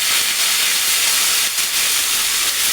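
Curry leaves drop into hot tempering oil for tomato pappu, setting off a loud, continuous, crackling hiss of sizzling that fills the moment with little variation.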